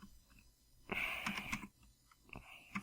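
A CAPTCHA being typed on a computer keyboard: a quick burst of several close, crisp key clicks, then a pause and a few more scattered taps, all fairly quiet.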